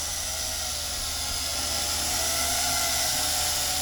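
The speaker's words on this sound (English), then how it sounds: "But this is an early drone and very noisy." An early, large radio-controlled drone carrying a Halloween skull, flying with a loud, steady high-pitched whine and buzzing rotor hiss, near and continuous with no voices.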